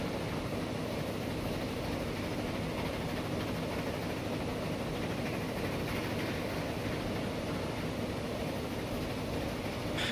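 Train from Transport Fever 2 running steadily, a low continuous rolling rumble with faint rail noise, held at an even, fairly quiet level throughout with no talk.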